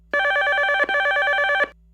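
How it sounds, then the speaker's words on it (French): A telephone rings in two steady electronic bursts, a short break between them, clear and close with no one talking. "le téléphone sonne."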